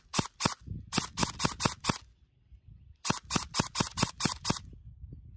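A drum-magazine airsoft gun firing on full auto in two rapid bursts of sharp, loud clicking shots, about six then eight, separated by a short pause with faint mechanical handling noise.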